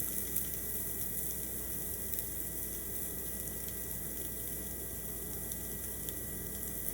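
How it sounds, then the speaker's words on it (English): Cajun shrimp sear in a hot pan with a steady, dense sizzle and crackle that holds constant throughout, close and fairly loud with no talking. "The shrimp are going to cook pretty quick in a hot pan, but I don't want to move the pan around. I just want to get a nice sear on one side."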